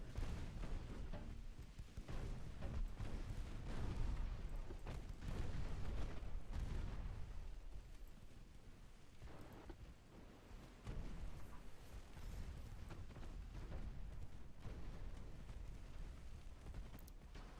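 Heavy naval gunfire from destroyers' 4.2-inch guns in the naval warfare game Ultimate Admiral Dreadnoughts, a dense, continuous rumble of booming shots and explosions throughout, loud and low with no clear gaps.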